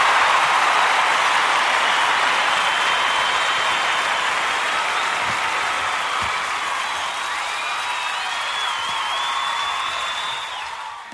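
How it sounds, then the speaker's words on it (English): Studio audience at the Luke Howard Show applauds steadily, a dense sustained clapping from a full crowd with scattered whistles, fading slightly toward the end. "Round of applause has always been my favourite part"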